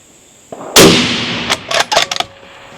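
A single loud, close rifle shot from a lightweight Bergara rifle fired at man-size steel 1,000 yards away, with a sharp crack and long decaying roar, followed by a few softer clicks and rustles.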